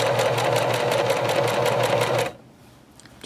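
A sewing machine runs a fast, steady stitch along a seam in skirt fabric, its rapid needle chatter loud and close for a little over two seconds before stopping abruptly into quiet.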